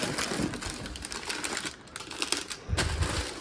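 Wrapped cowl piece of a 2022 Darth Vader Black Series helmet shaken inside its packaging, giving a busy rustling and rattling clatter that runs steadily through the moment, with a louder burst near the end.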